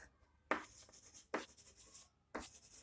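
Three separate bursts of marker or chalk writing on a board, each scratchy stroke sequence lasting under a second with short quiet gaps between, close and clear with no talking.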